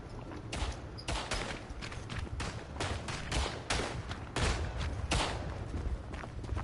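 Rapid bursts of machine pistol fire in a World War I trench shooter game, dense crackling volleys repeating across the whole stretch with a few brief pauses, loud and close.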